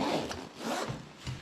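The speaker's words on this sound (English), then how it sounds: "with the high ground gear pouch, you do have a zipper that goes all the way around the bottom" Zipper running around the bottom of a High Ground gear pouch on a manpack radio setup, pulled open in a few quick rasping strokes, close and fairly quiet, with no talking.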